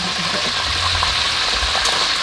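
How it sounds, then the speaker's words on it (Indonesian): Tempeh and jengkol frying in hot oil in a traditional Sundanese kitchen, a steady broadband sizzle running continuously with soft crackles throughout. "Nah, goreng tempe, itu goreng jengkol"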